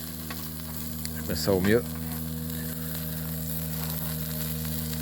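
Food sizzles steadily over a wood fire, not charcoal, on a barbecue in a cold forest spot in the morning, a constant close crackle under a low hum, with a brief voice and a short louder flare near the start.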